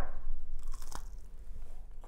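A crunchy bite into chicken coated in hot sauce, heard up close as a crisp crackle followed by a few moist chewing sounds, with no talking.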